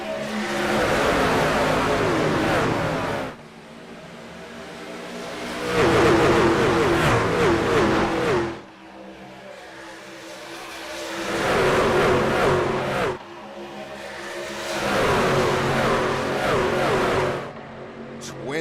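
Race trucks from a video game roaring off at a green flag start, engines loud and sustained, surging and dropping in several long waves of revving, with a commentator talking over them.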